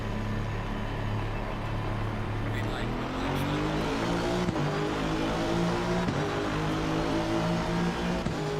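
Several race cars at the start of a racing video game, the Porsche among them, their engines droning loudly together and rising steadily in pitch as they accelerate off the line.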